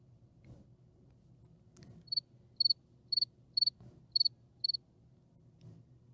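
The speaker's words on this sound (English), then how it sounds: "Cricket noises." Cricket chirping in short, evenly spaced bursts of rapid pulses, six trills over a few seconds, fairly close and clear above a low background hum with no talk.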